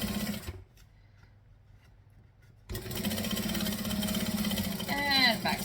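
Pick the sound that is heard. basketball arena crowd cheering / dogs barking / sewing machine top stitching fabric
sewing machine top stitching fabric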